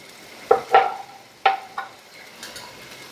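A spoon scrapes and clinks around a pot of cooking mixture on a homestead stove in Mexico, with three or four close, sharp strokes followed by quieter stirring, no voices.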